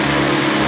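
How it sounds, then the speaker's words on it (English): A vacuum cleaner hoovering artificial grass, giving a loud, steady motor whine and rushing airflow that holds constant through the whole short stretch. "Right, let's hoover all this up."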